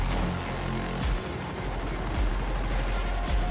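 Rapid gunfire crackles from a video game trailer shown at a summer game showcase, with bursts of shots and heavier booms at a steady, loud level.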